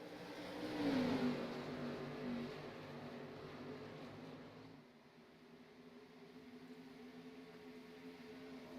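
Race cars on an oval track in an online racing sim game drone steadily, swelling as a pack passes and then settling into a softer, continuous engine hum.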